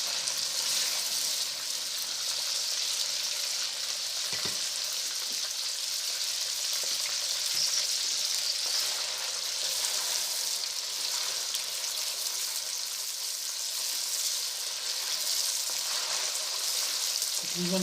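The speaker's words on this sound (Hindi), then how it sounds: "तकरीबन 5-7 मिनट ही हम इसको जो है ना इसमें ऑयल में भूनेंगे गोश्त को" About 750 grams of mutton frying in plenty of cooking oil for a black-pepper kadahi gives off a steady, moderate sizzle with faint crackles that holds evenly throughout.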